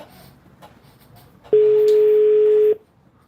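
Telephone call tone on a phone line, with a faint click and low background murmur before one loud, steady electronic tone that holds for about a second and then cuts off.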